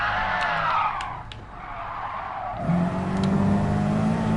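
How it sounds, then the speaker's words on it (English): Tires skid and squeal as a race car slides under the handbrake in Gran Turismo Sport, a sustained screech over engine drone that shifts pitch midway and carries on loud. "I don't get why the car started to turn when I put the handbrake on."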